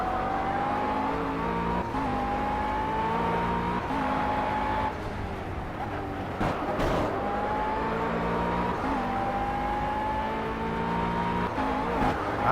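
A race car engine in the Project CARS video game screams at Willow Springs, climbing in pitch through each gear and dropping sharply at shifts, loud and continuous with brief lifts and tire noise.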